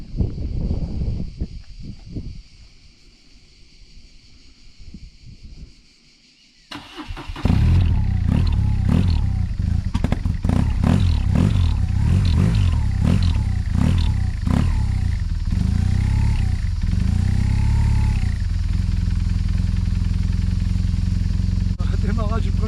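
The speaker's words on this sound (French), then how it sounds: "Démarrage du premier coup, ça c'est BM." A BMW motorcycle engine catches on the first try after a brief starter crank, then settles into a loud, steady idle with uneven revs, while someone speaks over it.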